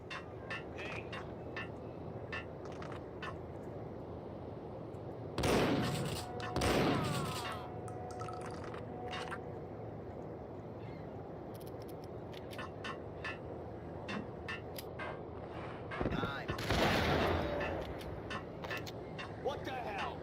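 Gunfire in the Max Payne video game, including shotgun blasts, comes as two loud bursts of shots in the middle and a third near the end, over steady game noise and some talk.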